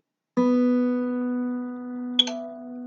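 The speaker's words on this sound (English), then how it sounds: "So let's hear what my B wire sounds like." Guitar B string plucked for tuning, a single clear sustained tone ringing alone, with a brief second touch near the end.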